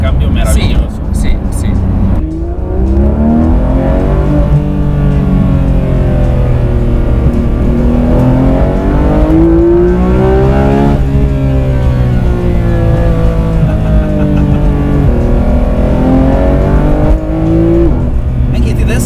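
A Porsche 991 GT3 RS from 2019, PDK gearbox, exhaust button pressed, revving loudly again and again as its rising and falling engine note climbs high, with people talking over it throughout.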